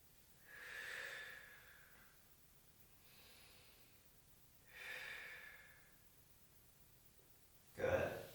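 Slow, deep breathing during a core exercise hold on a mat: two long audible inhale-exhale cycles with a fainter one between, then a short sharp snort-like exhale at the end.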